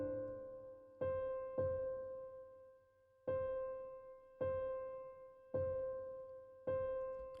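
A synth plays a simple repeated rhythm on a single C note, each bright, sustained tone starting sharply and then fading, in an uneven pattern with a brief gap, clean and alone.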